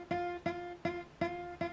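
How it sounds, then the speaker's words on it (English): Electric-free acoustic guitar notes fretted too far behind the fret, five evenly spaced plucks each ringing briefly with a slightly rough, buzzy sustain, close and moderately quiet with no talking. "If you still hear a buzz after pressing down right behind the fret"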